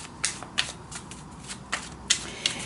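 Tarot cards being shuffled by hand, a run of crisp riffling flicks in quick irregular bursts, close and fairly quiet, with no talking.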